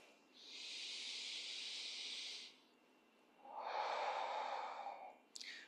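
Slow, steady breathing during a pelvic floor activation exercise: a long, soft airy breath, a pause, then a second slightly fuller breath, close and quiet, with no talking.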